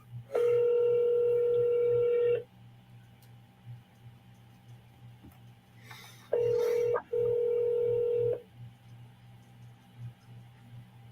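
A phone call rings out through a handset in two long tonal rings separated by a pause, loud and steady over a faint low hum.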